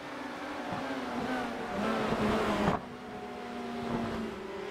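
Race car engines in the iRacing sim racing game at Homestead or Interlagos, a sustained tonal engine drone with shifting pitch at around 150 mph, dropping abruptly partway through as the car brakes hard into turn 1.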